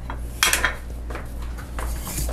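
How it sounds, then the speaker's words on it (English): An egg beater is dropped into a kitchen sink with a few sharp metallic clanks and rattles against dishes, over a low steady hum. "Get all the egg white out of your beater and put it in the sink."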